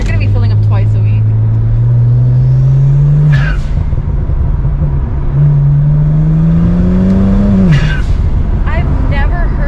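A tuned Stage 2 plus BMW engine revs loudly and up close, its tone rising in two long pulls before dropping off with crackling exhaust pops, while people talk over it.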